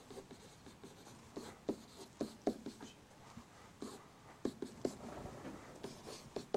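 A pen or marker scratches across paper while a math example is worked out by hand, quiet irregular strokes and taps in short bursts with brief pauses between them.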